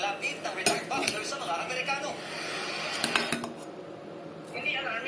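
Utensils scraping and clinking in a bowl while chopped tofu is mixed for tortang tofu, with irregular sharp metallic taps and stirring scrapes close by, and a voice talking over parts of it.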